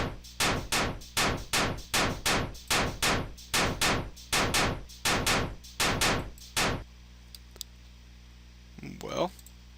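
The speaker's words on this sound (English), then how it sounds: "I actually want to stop the enemy from firing so much" Enemy gunfire in a video game under development: about a dozen evenly spaced, sharp shots in a steady rhythm, loud and close, stopping abruptly, then a few faint clicks.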